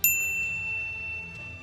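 A single bright notification bell dings at the start and rings out with a long, clear metallic decay over a low background hum.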